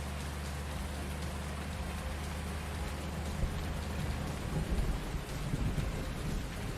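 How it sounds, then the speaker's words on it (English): Thunder rumbles low and steady beneath constant rain in the Hof Bergmann farming video game, a continuous wash of falling water with a swelling roll toward the end and no voices. "Thunder rumble."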